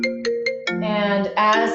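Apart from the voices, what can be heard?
phone ringtone from calls coming through a computer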